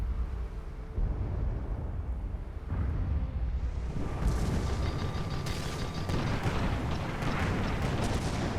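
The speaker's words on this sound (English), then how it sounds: "really well-timed flak there" Flak anti-aircraft fire in a strategy video game skirmish, a dense, loud barrage of booming bursts and mechanical clatter that builds after a quieter start and carries on continuously.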